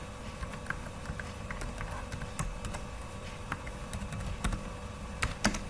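Quiet, irregular typing on a computer keyboard, a run of light clicky keystrokes with a few sharper taps, close and alone with no talk over it.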